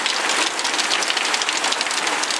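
Heavy rain pours down in a dense, constant hiss of countless drops hitting surfaces, loud, close and unbroken, with no voices.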